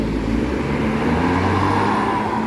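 An MPM bus pulls out of a bus terminal with a steady, loud diesel engine drone and rising rumble close by, amid general traffic noise.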